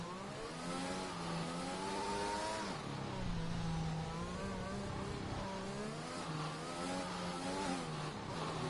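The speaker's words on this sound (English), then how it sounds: "Hecht is doing some donuts for the fans" An F1 car in a racing game spinning donuts at the Netherlands round, its engine revving steadily with rising and falling pitch sweeps, loud and continuous throughout.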